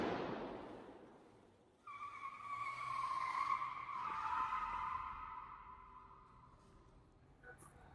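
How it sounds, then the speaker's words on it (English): A stunt car launches during Magnum P.I. filming, with a rising engine roar and tire squeal sweeping through several seconds before fading into the distance, heard faintly over a hollow background. "This is just a Magnum P.I. launch, car launch."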